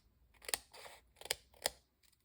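Scissors snipping through sheets of vellum, three crisp close cuts with short rustles of the material between them, alone and fairly quiet.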